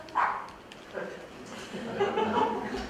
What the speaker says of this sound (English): I hope you don't mind that I have my puppy here.